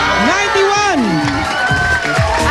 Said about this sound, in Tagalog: At yun nga ang ginawa nilang palakpakan Para may kasamang sigawan